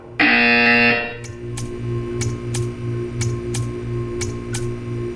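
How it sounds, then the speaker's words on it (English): A loud electronic buzzer from the video game Portal 2 blares for about a second, then a steady hum follows with sharp, regular ticking clicks. "You will hear a buzzer."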